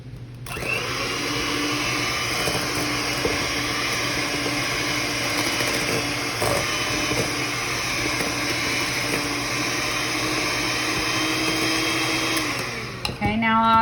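An electric mixer whirs steadily at high speed while mixing eggs into batter, a loud continuous motor drone holding for over ten seconds before stopping abruptly at the end.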